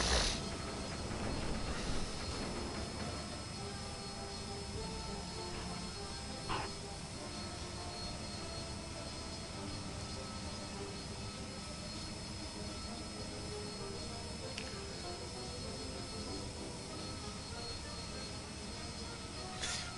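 A Harrier jet hovers in a flight simulator game, with a dense, steady engine roar and broad rushing thrust noise throughout and only small bumps in level.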